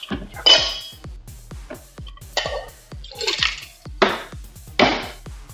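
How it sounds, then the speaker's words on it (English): A shaker bottle with a blender ball and ice is shaken hard in bursts, a rattling, sloshing clatter close to the microphone, coming in irregular loud jolts with short pauses between. "Please do let me know if the shaker is loud in my microphone right now"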